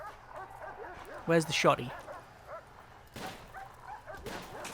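A dog in the prison-management game Prison Architect lets out a quick burst of yelping barks and whimpers partway through, loud against a quieter game background, with someone talking around it.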